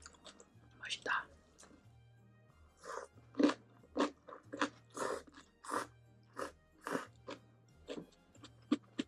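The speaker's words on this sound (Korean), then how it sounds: "꼭꼭 씹어 먹어야 되는데 파전" Crunchy Korean green onion pancake (pajeon) is chewed close up in loud, rhythmic crunching bites that repeat roughly every half second, with a steady low hum underneath and a soft voice murmuring at the start.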